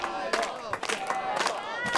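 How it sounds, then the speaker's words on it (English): Crowd at the 34th annual beach volleyball event on Parksville Community Beach calling for a sky ball serve: a lively swell of many voices chanting and cheering, near and continuous, with commentary over it. "the crowd is going to be asking for it right here"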